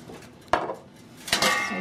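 Frying pan for vegan sweet potato fritters handled on a stovetop over medium heat, two sharp metallic clanks of pan and utensil about a second apart against a quiet kitchen background.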